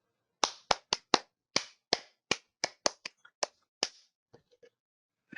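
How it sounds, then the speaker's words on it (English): Sparse applause from a small lecture audience after a medical talk on Y90 microspheres, a dozen or so distinct separate claps from different hands, fairly close, thinning out to a few faint taps at the end. "You can tell that the clapping are coming from different sources"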